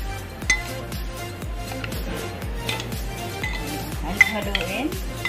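Stirring an apple cider vinegar dip for fried milkfish, a spoon clinking steadily against a bowl in a repeating rhythm close by, with faint dish and cutlery clatter around it.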